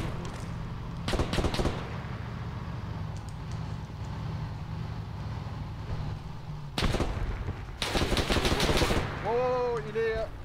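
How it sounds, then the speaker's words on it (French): Armored vehicle firing in ArmA 3 during a WWII Narvik 1940 battle scenario, with loud bursts of rapid gunfire in separate volleys over a low rumbling background and faint radio-like chatter. "il y a bien blindé qui tire"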